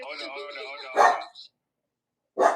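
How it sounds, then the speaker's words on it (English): Dogs barking in short, loud bursts indoors, a harsh bark after a high, whining voice, then a pause and another bark. "Mona, that's the dogs?"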